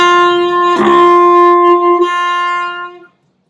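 Saxophone playing a sustained high D overtone fingered as low B flat, a clear, loud single note with rich harmonics held for about two seconds after a breathy attack, then ending cleanly.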